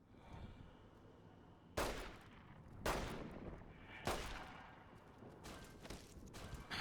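Police pistol shots in Fallout: New Vegas: four or five loud, separate single cracks at irregular intervals of about a second, each decaying quickly over a low, steady game ambience.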